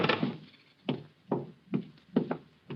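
A door opening into a sheik's room as a radio drama sound effect: a run of about six sharp wooden knocks and thuds at uneven intervals, close and moderately loud, with no voices.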